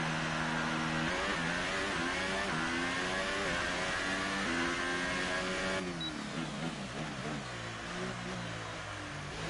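Formula 1 race car engine from the video game F1 2018, running under the lights: a high-pitched, steady engine whine that climbs and shifts through gears, loud and close with no voices over it.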